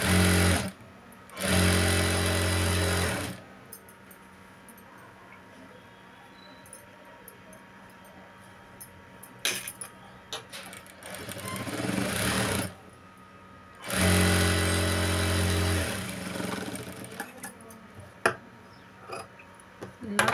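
A sewing machine stitches a blouse lining in three loud, steady whirring bursts of a few seconds each, close up, with quieter rustling and handling of cloth between runs.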